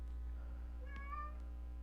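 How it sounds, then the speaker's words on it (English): A pet cat meows once, a short, rising cry close to the microphone in a quiet room over a low steady hum. "Sorry, my cat is noisy."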